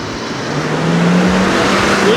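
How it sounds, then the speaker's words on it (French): A car revs and accelerates close behind a Dualtron Victor electric scooter on the road, its engine note rising loud and steady over strong wind rush. "Il fait une voiture derrière qui a l'air excitée là."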